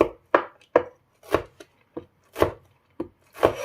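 Sharp, separate knife strokes chop soaked pure sweet potato vermicelli on a wooden cutting board, about eight irregular close thuds over a few seconds with quiet gaps between.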